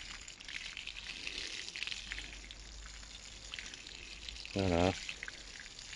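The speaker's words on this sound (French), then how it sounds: "et là, on arrose copieusement" Water poured from a watering can onto garden soil, giving a soft, continuous splashing trickle under low background noise, followed by a brief spoken word near the end.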